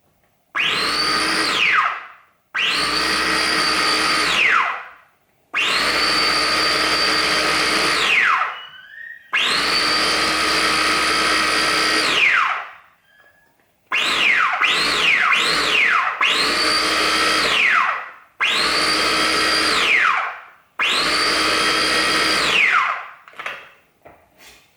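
A Philips Avent 4-in-1 baby food maker blending in repeated pulses of a few seconds each, a loud whirring motor that rises in pitch, then several shorter bursts near the end, with brief silences between.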